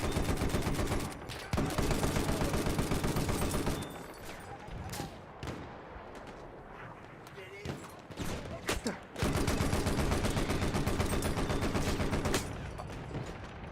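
Rapid bursts of gunfire from a firefight in the online game New World, loud and dense in the opening and closing stretches and thinner in the middle, with a few scattered single shots.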